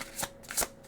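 A new deck of playing cards being shuffled, two quick riffling bursts in under a second, close and fairly quiet, with no speech.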